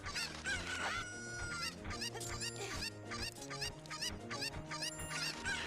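Chickens from Ocarina of Time clucking and squawking in a dense, continuous flurry of repeated game calls over a looping musical background, fairly loud and steady throughout.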